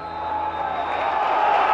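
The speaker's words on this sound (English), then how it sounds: "A huge crowd inside Love Street, a sign that this is a vital match indeed." A large football crowd at Love Street, St Mirren's ground, roars and cheers in a steady, dense wash of noise that swells slightly over a couple of seconds, with a faint voice beneath it.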